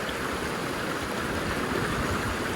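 Water streams steadily through a sluice box set in a creek for prospecting, a continuous close rushing wash with no pauses and no voices.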